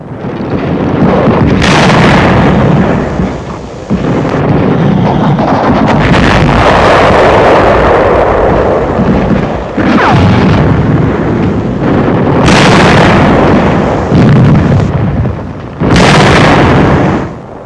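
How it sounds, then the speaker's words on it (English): German tank struck by a shell in World War II combat, heavy booming blasts and roaring rumbles that repeatedly swell to full loudness and overload, broken by short lulls, no speech. "Jerry tank suffers a direct hit, and the crew leaps from the flames"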